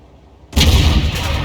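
A single heavy tank cannon shot from an SU-130PM in World of Tanks, a sudden loud boom after near-silence with a rumbling tail.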